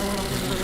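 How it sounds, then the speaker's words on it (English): A bee buzzing inside a car in a TV commercial, a steady, loud, close drone that holds without a break. "I'm a bee, and I bumbled my way into your car."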